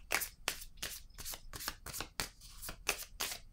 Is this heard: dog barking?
no